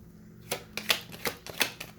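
Tarot cards are pulled from a deck with a handful of crisp, separate flicks and slaps, close and fairly quiet, each snap spaced a fraction of a second apart.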